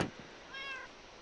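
A cat gives one short, clear meow at moderate distance, rising then falling, preceded by a brief faint rustle in a quiet room.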